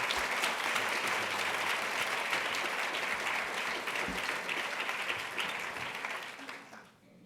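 An audience at an evening talk on confronting hate applauds to welcome a rabbi, sustained dense clapping from a large crowd that fades out near the end.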